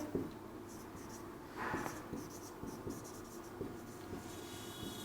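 Pen or pencil writing on paper, scratching out a definition of organic acids in quick strokes and short taps, close and fairly quiet over a faint room hum.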